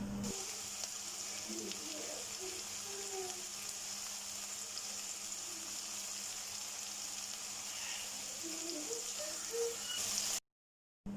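Chicken frying in a pan with ginger garlic paste in a Pakistani home kitchen gives a faint, steady sizzle and hiss with small scattered pops. It runs unbroken, then cuts off abruptly just before the end.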